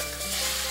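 Geera pork frying on high heat in an enamel pan, a steady, loud, close hiss of sizzling fat with no voices.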